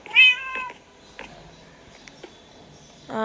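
A cat in Minecraft meows twice, once at the start and again at the end, with quiet ambient noise in between.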